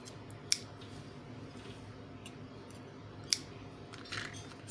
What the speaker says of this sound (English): now I'm just cutting off the excess